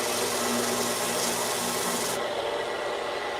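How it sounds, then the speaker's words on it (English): Plywood for a birdhouse is sanded in one continuous, close, steady scratching rub that keeps an even loudness throughout. "Gonna sand that off a little."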